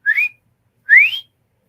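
A person imitates a whistle heard in the woods, giving two clear, rising whistles, each about a third of a second long, with a short pause between them. The whistles are loud and close, with no talking.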